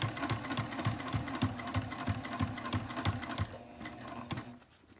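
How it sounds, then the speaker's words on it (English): A sewing machine stitches a fabric sling in quick, steady bursts of needle clatter, then slows and trails off near the end, with no talking. "you're sewing more in a circle, not going down in the swoop and shoving it up into the machine"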